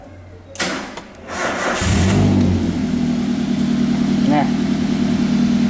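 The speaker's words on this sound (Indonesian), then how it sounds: "Oke, kita hidupkan mobilnya." A Toyota Avanza with an EFI engine cranks and catches close by, then settles into a steady idle hum, and a voice speaks briefly over the start.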